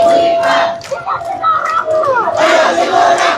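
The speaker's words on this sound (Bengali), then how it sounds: "অনেকেই আপনারা দেখতে পাচ্ছেন বাংলাদেশের যে পতাকা সেই পতাকা হাতে নিয়ে উড়াচ্ছেন, স্লোগান দিচ্ছেন।" Protesting recommended teachers at a Shahbag blockade in Dhaka chant slogans in unison while waving Bangladeshi flags and placards, a loud, close crowd roar of rising and falling shouted voices.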